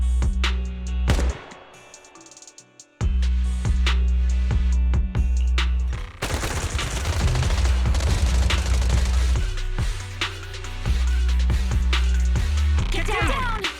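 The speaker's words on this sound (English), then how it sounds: "Gunfire? This pattern. Suppressive marching fire." Suppressive marching gunfire in the video game Zenless Zone Zero, a battle scene of repeated sharp shots and booms over a dense soundtrack, with an abrupt dropout near the start before the loud bursts continue.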